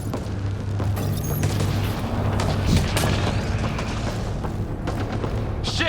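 Enemy gunfire in a video game: a heavy, sustained barrage of booms and shots mixed with explosions and a steady low engine-like drone, loud and dense throughout with sharp cracks standing out.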